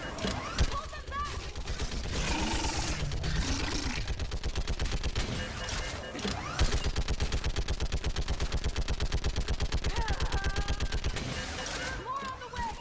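Rapid bursts of mounted-gun fire from a video game battle rattle on almost nonstop, loud and close, with shouted commands over the shooting.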